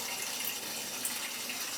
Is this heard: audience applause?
no